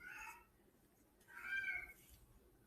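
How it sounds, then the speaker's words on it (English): A cat gives two faint, plaintive meows about a second apart, the second longer and more drawn out, against quiet room noise with no talking. "Oh, that's the saddest cat in the world"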